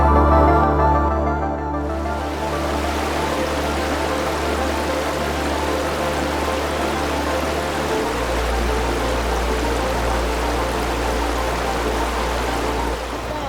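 Parvati River near Kasol rushing steadily over rocks, a close, continuous broadband flow with a constant low hum beneath it, no voices.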